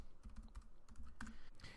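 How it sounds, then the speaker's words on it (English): Someone types one-handed on a computer keyboard, giving a quiet, close run of irregular key clicks in small clusters, with no talking. "sorry, I'm typing one-handed"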